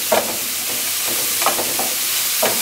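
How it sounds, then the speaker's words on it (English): Processed mushrooms, some chunky and some soft, go into an oiled frying pan, giving a steady broad sizzle with a few soft stirring scrapes spaced through it, close and alone without speech. "And then I'm also going to add some mushrooms that I processed."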